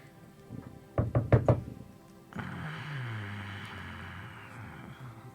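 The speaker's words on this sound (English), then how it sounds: "There's a knocking at Elaine's door." Four quick, sharp knocks on a wooden door in a game scene, close and loud, followed by a low rumbling ambient drone.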